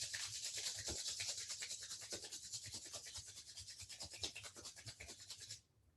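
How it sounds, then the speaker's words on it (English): Steady, brisk rubbing of palms together, a close, soft swishing friction with a quick back-and-forth rhythm that continues for several seconds and then stops, with no talking. "rub your palms, generate the fire of knowledge"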